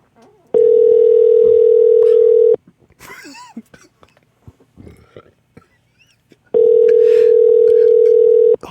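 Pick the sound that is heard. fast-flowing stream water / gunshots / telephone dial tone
telephone dial tone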